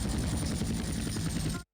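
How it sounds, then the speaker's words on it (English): A helicopter in Grand Theft Auto: San Andreas gives a loud, close, steady rotor chop and engine whine that holds constant, then cuts off abruptly. "this one is a helicopter landing"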